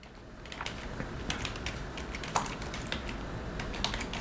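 Rapid typing on a computer keyboard while entering names into a Word document, a steady patter of close, crisp key clicks with no talk over it.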